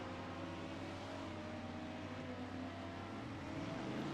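A Porsche GT3 race car in a six-hour practice session at Watkins Glen, its engine droning steadily and loudly from close up with a slight rise at the end.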